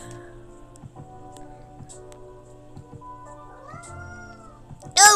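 A cat in the video game Coffee Talk 2 meows once with a rising cry over soft, steady background music, and a short loud burst follows at the end.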